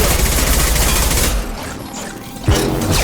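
Gunfire during combat in the video game Mass Effect 2, a dense continuous fusillade of loud shots that briefly drops away before a fresh burst resumes.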